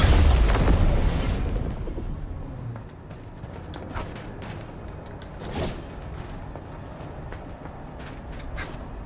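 A weapon fires and a heavy explosion bursts in Arknights: Endfield, a loud, deep boom at the start that rumbles away into a lower roar, followed by scattered smaller pops and impacts.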